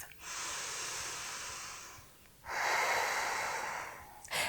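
Slow deep breaths during an intermediate yoga flow: a long airy exhale, a pause, then a stronger inhale-like rush of breath, close and soft with no talk.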